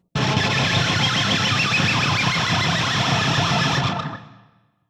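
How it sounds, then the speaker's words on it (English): An electric guitar on the bridge pickup, the pick's edge rubbed along the G and B strings, gives a dense gritty scraping wash smeared by multiple echo repeats, loud and sustained for about four seconds before trailing off. "I'm just basically rubbing the edge of the pick against the G and the B string."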